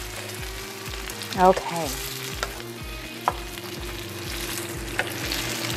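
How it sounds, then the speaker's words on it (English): Coconut milk pours into a hot pan of chicken curry and hisses against it in a loud, continuous sizzle, with occasional clinks of a utensil and a brief spoken word. "I'm gonna go ahead and add my coconut milk right away"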